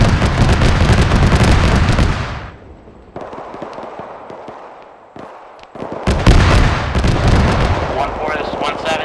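Javelin missile launch in ArmA 3: a loud, dense blast and roar that cuts off abruptly, then a quieter stretch of scattered cracks before a second heavy burst of explosive noise returns.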